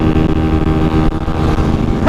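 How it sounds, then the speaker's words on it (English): A motorbike engine drones loudly and steadily up close, its rough tone holding through a brief dip as another bike flies past a rider pushing a 125 to about 70 on the road. "I see a bike come flying past me"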